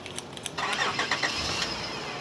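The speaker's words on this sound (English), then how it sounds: "Them engines is roaring." A car engine cranking and catching, a short series of starter clicks followed by a rising mid-pitched engine note that settles into a steady rumble, moderately close.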